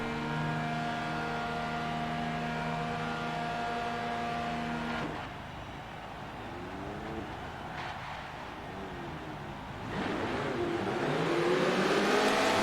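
Race cars at Watkins Glen in Forza Motorsport, a field of spec Fiats setting off on a 13-lap race, engines droning with steady harmonic whine, then quieter passing revs and a louder surge of accelerating engines near the end.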